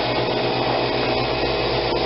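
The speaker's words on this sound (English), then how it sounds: "and then turn off the vacuum pump" A Harvest Right freeze dryer's vacuum pump runs in steady broadband drone with low mechanical hum, continuous and fairly loud throughout, with no talking over it.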